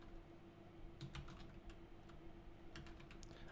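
Bursts of keystrokes on a computer keyboard, clicking in quick irregular clusters, close but quiet over a soft room hum with pauses between flurries.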